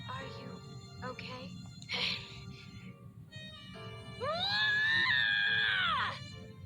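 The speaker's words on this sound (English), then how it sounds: "Carl lets out an animalistic scream filled with rage and despair." Carl Clover, a character in the fighting game BlazBlue Continuum Shift II, lets out an animalistic scream of rage and despair: short voiced cries building to a long, loud, sustained wail over game background music.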